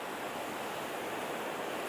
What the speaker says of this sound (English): here you can see and hear the ocean